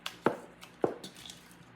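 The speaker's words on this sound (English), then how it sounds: "Just take turns grabbing bacon, cutting it in there." Bacon being cut on a kitchen board and dropped into bowls, with two distinct knife chops about half a second apart followed by faint clatter, close and clear with no talking.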